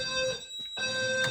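Steady electronic alarm tone from a fire alarm panel tripped by an HVAC duct smoke detector. It breaks off briefly and then resumes, heard close and fairly loud.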